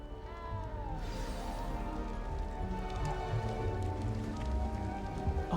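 A small cat meows in Hogwarts Legacy on the Nintendo Switch 2, its soft repeated cries rising over a steady patter like rain and a low ambient bed, with no voices.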